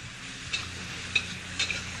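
Deep-fried shrimp stirred in a pan, a soft continuous sizzle with a few light scrapes and clinks of the utensil against the metal, close and quiet, without any talk.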